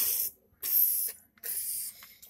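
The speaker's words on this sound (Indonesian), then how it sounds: "misalkan kita tuang atau kita semprot ke wadah ini" A handheld spray bottle squirts water into a container in three quick hissing bursts, each about half a second, with short pauses between them and no talking.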